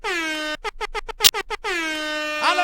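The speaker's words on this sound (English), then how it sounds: "Ironically, people in cars are honking at them." Loud, long truck-style air horns blare from passing cars, one sustained blast, then a run of rapid short honks, then another long drawn-out blast, honking at people protesting fossil fuels.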